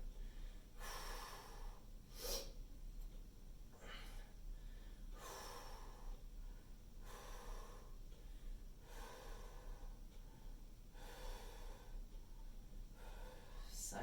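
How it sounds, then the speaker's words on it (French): Heavy breathing and gasping snorts from someone doing circuit training, recurring in regular bursts every second or two over a steady low background hum, with no talking. "Continuez à respirer, c'est important."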